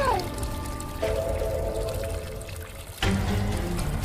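Water gushing and pouring indoors in a domestic scene, a continuous close rush with a change in the flow around the middle and a fresh surge near the end.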